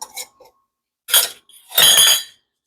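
Glass canning jars filled with peach and onion BBQ sauce clink and scrape in several short, bright bursts as metal lids and rings go on. Between the bursts there are brief silences.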